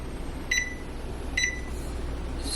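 Two short electronic beeps from an oven's control panel while preheat is set, spaced under a second apart, followed by a steady low hum.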